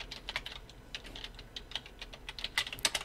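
Quiet, steady key tapping on a computer keyboard, with irregular bursts of clicks and a few firmer strokes near the end, heard close and without any voice.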